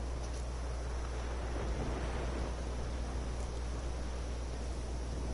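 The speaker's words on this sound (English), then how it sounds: "Storm's died down." A thunderstorm with rain in the video game The Witcher 3 gives a continuous hiss of rainfall over a low, steady rumble, even in loudness and fairly subdued.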